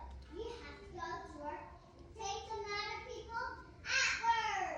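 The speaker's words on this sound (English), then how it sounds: "you can hear my kids playing superheroes" Young kids chatter, babble and shout as they play superheroes indoors, their excited voices rising and falling close by.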